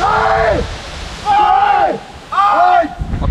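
A Scottish waterfall during heavy rain gives a loud, constant rushing roar close by, while people shout and talk over it in several bursts.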